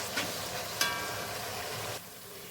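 Chicken chaap masala with ginger and garlic being stirred in a pan, giving a steady soft sizzle with a couple of light scrape clicks before the frying noise drops away.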